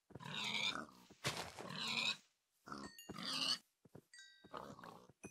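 Pigs grunting in the video game Minecraft, several short snorting oinks in separate bursts with brief pauses between them, fairly close and clear with no talk over them.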